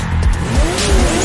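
Race cars in an online racing game rev and accelerate while warming their tires, with engine whine sweeping up in pitch, loud and continuous, and a hint of tire squeal.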